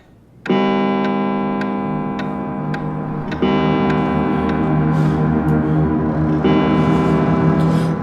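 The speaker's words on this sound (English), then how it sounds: "The clock." A clock ticks in crisp, regular beats over a sustained ringing tone that swells into louder layered chimes partway through, with no speech.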